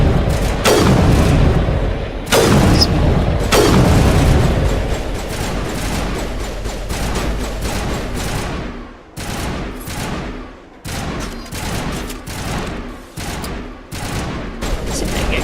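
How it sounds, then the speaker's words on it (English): Gunfire in the video game Mass Effect, heavy booming shots and rattling bursts near and loud at first, then a steadier run of repeated shots. "they're shooting at something up there"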